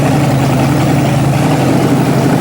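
A pulling tractor's new Bowtie Chevrolet engine idles loud and close, a steady low rumble with constant vibration and no pauses.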